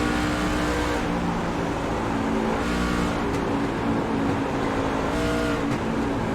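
A race truck engine roars steadily and loudly during a race, a constant droning rumble with slight rises and dips and no pause, with no voices heard.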